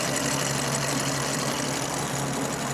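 A homemade model helicopter with hand-cut gears runs its geared motor, a loud, steady buzzing whine with a low hum that holds unbroken throughout.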